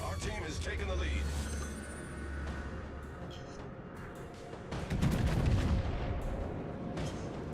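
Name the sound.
naval gunfire in World of Warships video game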